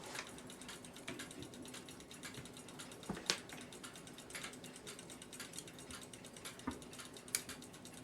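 Seth Thomas clock movement clicks and ticks as the click is released, faint close-up metallic clicking with a few sharper snaps, no talking.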